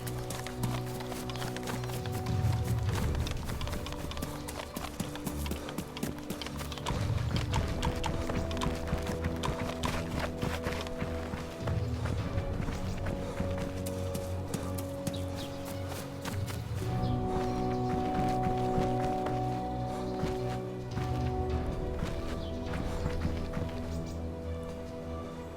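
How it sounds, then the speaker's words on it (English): Footsteps running in DayZ, quick rhythmic thuds over ground that continue steadily under a layer of ambient game noise, fairly close throughout. "suddenly I heard footsteps"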